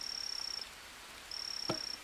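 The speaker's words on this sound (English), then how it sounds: "I know that I can hear a poison dart frog in the area" Steady high-pitched trilling call of a poison dart frog in the Green Hell jungle, two sustained buzzing stretches separated by a short gap, with a brief soft knock near the end.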